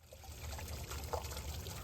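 Small solar-powered pump pushing water from a bucket up through a vertical hydroponics build, a quiet continuous trickle and splash of flowing water, close and steady with a few brief louder drips.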